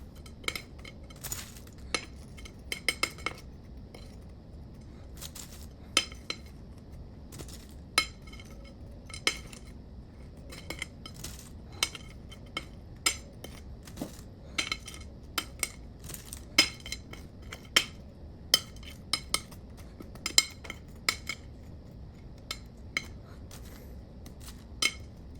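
Sugared pretzel pieces spread around the bottom of an iced strawberry pretzel cake, heard as scattered light clicks and taps of utensil and dish against a quiet background, irregular and fairly close.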